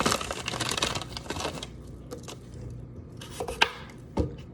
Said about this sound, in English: we are going to chop up all of these sweet potatoes, the entire bag